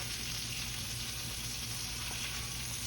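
Bread for an onion patty melt frying golden brown, a dense, steady, even sizzle with a constant crackling hiss, quiet and unbroken, with no talk.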